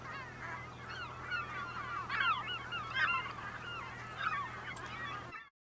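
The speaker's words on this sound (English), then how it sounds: "And yes, we have seagulls." A flock of seagulls calls over farm fields where canola is being planted, overlapping raucous squawks and yelps rising and falling over a constant low drone, then cutting off abruptly.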